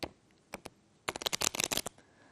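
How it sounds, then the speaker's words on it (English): A deck of playing cards gets a riffle shuffle, a few soft taps and then a rapid close flurry of cards flicking down in sequence before trailing off, quiet and without voices. "riffle the other ends of the cards together with the thumbs"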